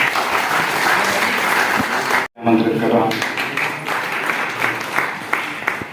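Audience applause at a Magadh University website launch: dense, sustained clapping from a large crowd that breaks off briefly and then swells back, with a voice heard near the start.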